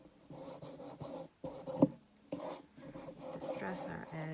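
An ink tool rubs and scrapes against a paper edge while distressing it for a handmade accordion book, producing close, soft, repeated swishing strokes in short bursts, with quiet background sound.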